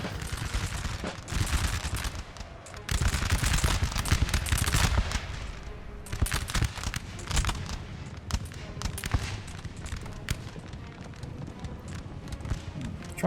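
Massed musket volleys and cannon fire roar across a Napoleon: Total War battlefield, a dense, continuous crackle of gunfire with heavier booms, loud and sustained throughout.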